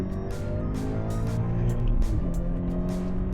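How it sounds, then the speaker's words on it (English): A Toyota 86/Subaru BRZ engine revs out, its tone climbing and holding in a steady high-rpm drone, loud and close, with brief clicks and shifts in pitch as it pulls. "fun to rev this car out, man."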